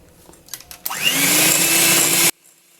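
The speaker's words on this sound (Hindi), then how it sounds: "तो चलें जी, अब इसको बीट करते हैं।" Electric hand beater whipping cream for a caramel biscuit dessert, switching on after a few light clicks and running as a loud, steady whirr with a slowly rising pitch for about a second and a half before cutting off abruptly.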